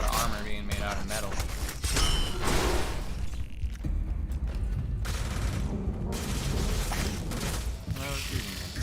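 Dense, sustained gunfire in the game Starfield, with rapid bursts and heavy shots layered over mechanical clatter, loud and continuous throughout.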